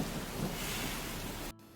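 Dense steady rain with a low rolling rumble of thunder, a full wash of noise that cuts off abruptly near the end, leaving faint hiss, with no talk.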